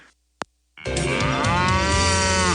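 Cattle moo in a farm setting, a loud sustained bellow with rising and falling harmonics lasting over a second, after a brief faint click and short silence.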